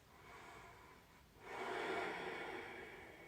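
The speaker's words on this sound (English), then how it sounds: "Let's take 2 more big breaths" Deep breathing during a vinyasa yoga flow: a soft, airy inhale followed by a longer, louder, breathy exhale, close to the microphone with no talking.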